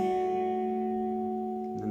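An electric guitar sustains a steady note from a riff, played at the second fret, ringing clean and alone before a soft pick or finger movement near the end.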